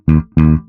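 Electric bass guitar plucking two quick offbeat sixteenth notes on E-flat, two evenly spaced punchy notes, loud and close with nothing else.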